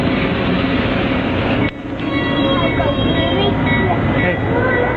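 A train rumbles steadily close by with a constant rolling clatter and a brief dip partway through, while a few voices are faintly heard over the noise.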